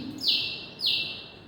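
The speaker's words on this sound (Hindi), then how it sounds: "2 चिड़ियाँ बड़ा स्वीट सा आवाज़ कर रही है।" Two small birds give bright chirps, two clear sweet notes about half a second apart, close and alone against a faint background hiss.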